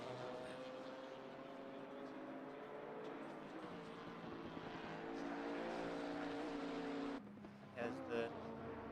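Race car engine in a GT4/GT3 endurance racing game at Silverstone: a steady, rising engine whine held close for several seconds, then cutting off abruptly with a brief shift-like dip, faint overall with commentary voices underneath.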